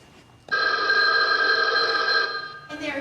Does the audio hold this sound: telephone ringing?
yes